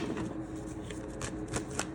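Tarot cards being shuffled by hand, a continuous dense riffling and flicking with a few sharper snaps, close and steady with no talking.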